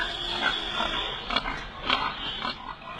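Pigs on a farm in China grunt and snort in scattered bursts over a steady background hum of the pen, moderately close with no talking.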